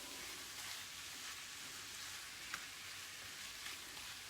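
Spices sizzle in ghee in a pan with onion, ginger and garlic, making a soft, steady frying hiss throughout with a couple of faint clicks, and nobody speaks.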